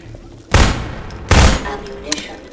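Pistol fire in Half-Life 2, two loud sharp shots about a second apart, each with a short ringing tail, then a faint click and a smaller crack near the end.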